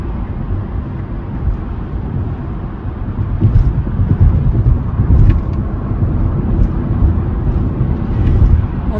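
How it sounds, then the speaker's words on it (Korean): Inside a Tesla Model Y Juniper on Autopilot on a four-lane highway between Gyeongju and Seoul, steady low road and wind roar swells slightly while passing a huge truck. "어마무시한 트럭은 빨리 지나치는 게 좋으니까 빨리 가자."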